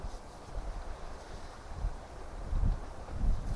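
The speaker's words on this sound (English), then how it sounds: "wind died down a little bit" Wind gusts sweep across an open backwoods campsite by the water during solo camping, a steady low rumble of buffeting that swells louder near the end, close to the microphone.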